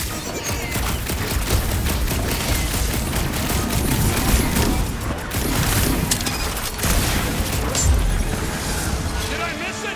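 Rapid bursts of gunfire crackle and boom through a chaotic Guardians of the Galaxy video game firefight, with dense overlapping shots, crashes and impacts for the full stretch while characters talk over the action.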